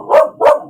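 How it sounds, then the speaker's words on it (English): A pet dog gives two sharp, loud barks close by in quick succession, with no one talking. "Apparently, my dog likes to rant too."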